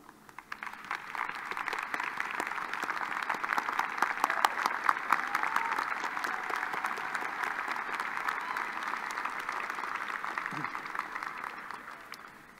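A graduate school commencement audience applauding graduates' families and friends: sustained, dense clapping from a large crowd that swells in over the first second, holds steady and fades near the end.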